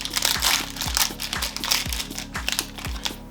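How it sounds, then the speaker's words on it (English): A small brownie wrapper is torn and crinkled, giving steady close crackling of plastic with repeated rhythmic crunches, no voices. "rip this open"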